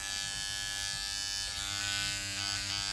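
Electric hair clippers trim a hairline during a home buzzcut, a steady close mechanical buzz that holds its pitch, with slight shifts as the blades move through hair.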